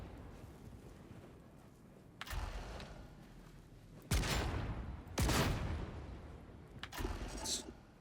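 Bolter fire in Darktide, a Warhammer 40,000 video game, with heavy single shots ringing out alone over a low hum: one at about two seconds, then two louder blasts a second apart, and a final shot near the end.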